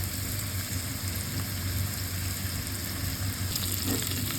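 Lamb meat frying in hot oil with soy sauce added, a steady dense sizzle running close and loud throughout with faint stirring scrapes near the end.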